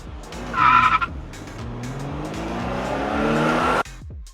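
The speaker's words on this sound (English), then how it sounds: "All it takes is for one person to slam on their brakes for this to happen." Cars braking hard on a highway send out a loud, sustained tire squeal and skid lasting about three seconds before cutting off abruptly, with engine rumble underneath.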